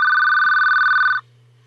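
A telephone rings in one continuous loud electronic tone lasting just over a second, then cuts off sharply, leaving a low steady hum.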